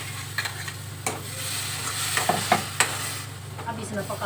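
A paste of onion, garlic, green chilli and ginger fries and sizzles in a pan with steady crackling, broken by a few sharp scraping clicks of stirring against a continuous low kitchen hum.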